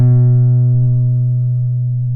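Guitar A string fretted at the second fret, a single plucked note that rings steadily and decays slowly over about two seconds, close and clean with no talking.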